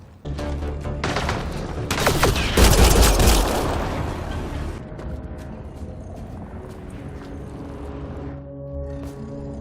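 Gunfire in the Mass Effect: Andromeda video game: a rapid, loud burst of shots and impacts that peaks early, then gives way to a quieter droning tail.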